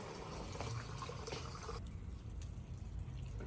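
Water splashes and trickles steadily onto plant beds under an outdoor shed, a soft continuous pour that thins out partway through, fairly faint and close.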